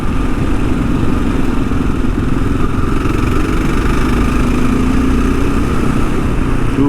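A 2022 Kawasaki KLR 650 single-cylinder engine pulls in third gear under moderate throttle, a loud, steady drone mixed with wind rush for the whole stretch.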